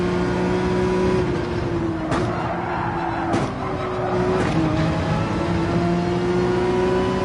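A race car's engine runs steadily at high revs in a manufacturers cup racing game, with brief gear-shift dips and a continuous loud drone, no talking.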